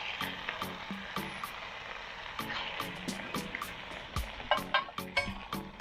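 Meat sears in a covered pot, sizzling softly with scattered pops and crackles and a few sharper clinks near the end, fairly faint and close.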